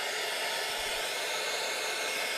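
Hair dryer blowing a continuous, even hiss of air to dry a pallet board, held steady and close throughout with no talking.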